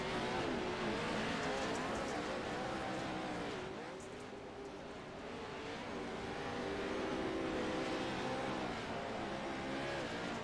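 Race cars in the iRacing game at Bark River slide through a corner, with dense, loud engine roar and road noise holding steady throughout and no talking.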